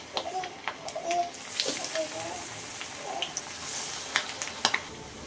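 Sweetcorn vadas frying in hot oil: a continuous bubbling sizzle with scattered crackles and pops, while a voice talks over it close by.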